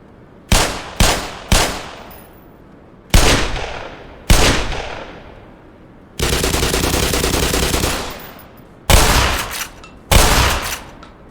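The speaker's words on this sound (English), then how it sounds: "guns are just so freaking loud that they drown out everything else" Gunfire in the video game Half-Life: loud, close single shots in quick succession, then a sustained automatic burst lasting about two seconds, followed by more sharp individual reports.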